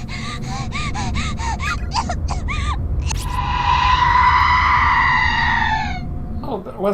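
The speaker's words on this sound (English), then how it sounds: "that was Naomi's scream from chapter 1" A woman's scream from a video game, a long high wail heard under a run of short gasping cries and rhythmic breathing sounds.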